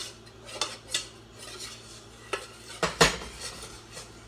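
A roux of pastry flour being stirred in a pot for a plant-based kohlrabi stew, with scattered soft scrapes and clinks of a utensil against the pot, one sharper knock near the end.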